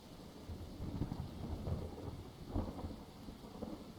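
Storm ambience in the survival game Dead in Vinland: steady rain with low thunder rumbles swelling around the midpoint and again near the end, continuous and moderately loud, no voices.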